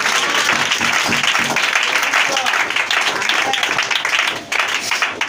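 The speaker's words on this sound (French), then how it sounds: "est-ce que tu peux l'acclamer?" A church congregation bursts into loud, dense applause and cheering, continuous clapping filling the room for several seconds with voices mixed into the crowd noise.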